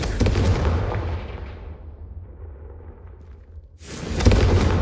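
Confringo fire spell from the game Hogwarts Legacy: a loud booming blast that fades into a rumbling tail, followed by a second strong burst near the end.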